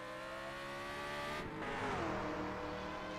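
A 1978 USAC Indy race car with a Drake engine works a race track. The engine note revs and shifts pitch, loud and close, with no talk over it.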